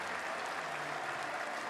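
Cricket crowd at an England v West Indies Test match applauding Jimmy Anderson as he walks out, a steady, dense wash of clapping filling the ground with no voices on top.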